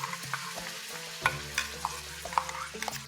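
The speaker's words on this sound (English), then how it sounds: "Once oil in the wok heats up, the next thing that goes in is our Thukpa paste." Thukpa paste frying in hot oil in a wok: a low continuous sizzle broken by scattered clicks and scrapes of stirring, moderately close.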